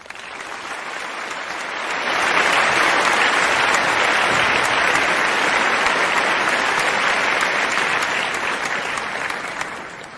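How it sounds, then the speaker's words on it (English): Sustained applause from a crowd, building over the first two seconds and holding steady and fairly loud for the rest of the ten seconds. "we will top that off with an applause."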